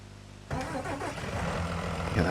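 A potato harvester's engine cranks and catches in Farming Simulator 19, with a sudden onset into a steady, rumbling mid-pitched run that builds slightly toward the end, loud and close.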